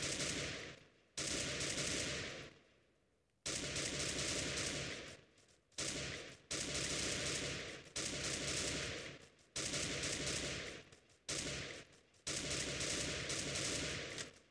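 Rapid automatic gunfire from the video game Free Fire comes in long loud sustained bursts, separated by brief pauses, with no talking over it.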